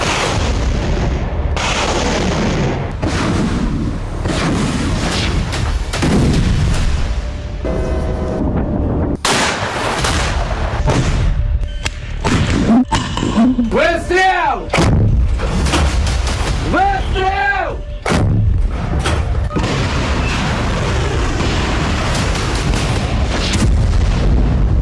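Russian artillery bombardment of Kharkiv, heavy booms and blasts landing one after another, loud and rumbling, with whistling streaks and dense layered noise throughout.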